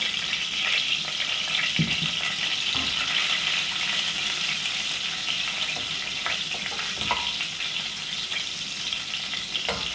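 Garlic frying in a pan for Egyptian koshari, a continuous bright sizzle with occasional soft clinks and stirring knocks, close and steady throughout.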